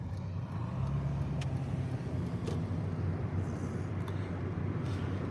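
A car drives past outside a window, a steady low rumble of engine and road noise that holds at moderate loudness throughout, with no talking.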